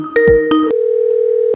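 A telephone line rings out while a call is placed to a barbecue smoker maker, a few short beeping tones followed by one long steady electronic ringback tone.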